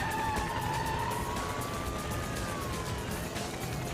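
A police car chases a suspect's car through Anaheim, California traffic, its siren wailing in sweeping tones over a steady, loud roar of engines and road noise throughout.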